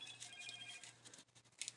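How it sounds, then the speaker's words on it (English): A phone gives a faint, short notification tone, a few high clear chimes near the end of a quiet room with a low hum behind them. No one speaks. "I don't know why that notification just went off."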